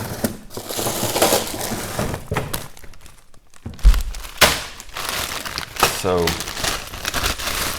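Ice going into a glass while lemonade is made, heard as crunchy rattles and clunks of cubes, a couple of sharp knocks and clinks, interspersed with brief speech nearby.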